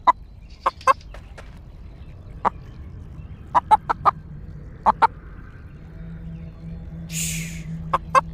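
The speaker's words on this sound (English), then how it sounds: "Chicken!" Chicken in the video game Blade & Sorcery: Nomad giving a series of sharp, close clucks in uneven bursts over a low steady background hum, with a brief hiss near the end.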